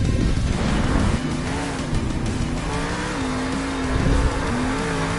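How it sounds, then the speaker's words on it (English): The Whiplash monster truck revs its engine inside a Monster Jam arena in Salt Lake City, a loud sustained roar with a rising and falling engine pitch that carries the full clip over a noisy crowd backdrop. "But the next truck out, ladies and gentlemen, Whiplash."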